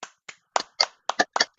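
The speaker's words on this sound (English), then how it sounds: "Claps, everybody." Applause for a winner comes as about eight sharp, separate hand claps in an uneven rhythm, close and clear with silence between them, sounding like only a few people clapping.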